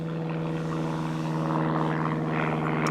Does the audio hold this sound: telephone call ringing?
no